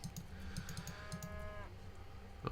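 A single drawn-out cow moo from an Age of Empires III match sounds over steady game ambience, with faint keyboard and mouse clicks scattered around it.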